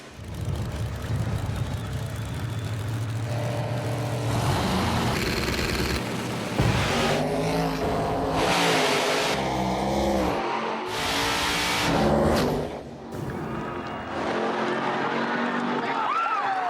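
Drag racing cars at a No Prep Kings race, engines revving loud and close with rising acceleration runs and brief tire squeal, continuous through the stretch with voices talking over the roar.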